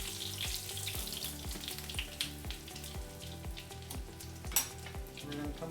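Pieces of sheepshead fish fry in a pan with steady close crackling sizzle and rapid popping, continuous and fairly quiet throughout, with occasional sharper spits.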